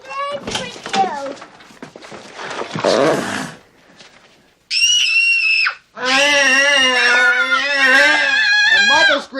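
A child screams loudly in a scene from the film E.T., mixed with other shrieks and bursts of voices, a sharp rising cry standing alone and then long sustained screams stacked over one another.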